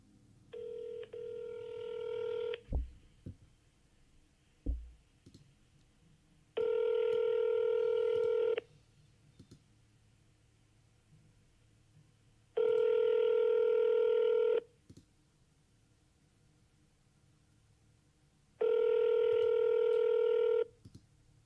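Touch-tone telephone number dialled, clear DTMF beeps, a quick string at the start then three longer evenly spaced tones, with a couple of faint clicks and no talking.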